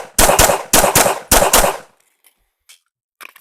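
Rapid handgun shots fired during a recoil control drill ring out loud and close in three quick clusters of two or three sharp cracks, followed by quiet with a few faint clicks and rustles.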